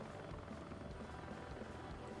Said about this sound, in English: I'm actually in love with this helicopter and the Ka-50 because of how it looks, sounds, moves